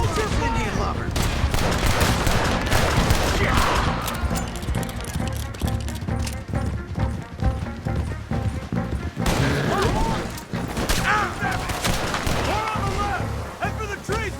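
A dense shootout in Red Dead Redemption 2, with rapid overlapping gunshots and booms cracking nonstop in loud irregular bursts, shouted voices mixed in among the fire.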